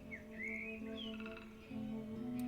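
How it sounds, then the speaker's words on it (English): Cheep Cheep, a small pet bird in The Book of Unwritten Tales, gives a few soft rising chirps over a quiet tonal background hum, fairly faint and close. "That's only Cheep Cheep, my little, very annoying bird."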